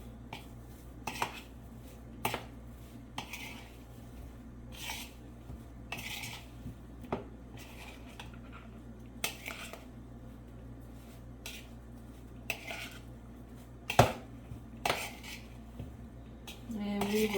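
Vegan shrimp and a seaweed sheet are tossed in a bowl, giving scattered clinks of a utensil against the dish and soft squishing spread over several seconds, with occasional voice.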